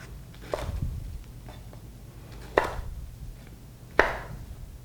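A knife cutting potatoes and Brussels sprouts on a board, three spaced, sharp, close chops with faint softer taps between them.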